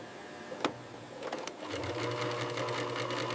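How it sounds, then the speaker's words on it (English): An industrial sewing machine stitches through layered crocodile leather to close a wallet's card slots, starting with a few sharp clicks before settling into a fast, steady, close mechanical whir. "Final stitching secures card slots and closes the wallet structure."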